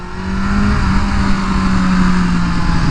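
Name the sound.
tuned BMW M1000R motorcycle engine revving while riding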